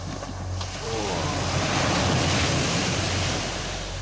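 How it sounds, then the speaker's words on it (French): Sea water sprays and splashes over a skimboarder on an uncrowded beach, a continuous rushing wash of surf with heavy wind buffeting the microphone throughout. "me suis pris une gerbe de flotte"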